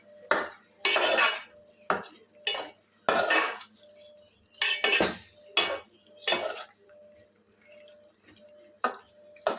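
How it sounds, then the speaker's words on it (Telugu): Egg biryani being stirred in a pot, a metal spoon scraping and clanking against the sides in repeated irregular strokes, close and fairly loud, with no talk. "ఇప్పుడు మొత్తం ఒకసారి బాగా మిక్స్ చేసుకొని"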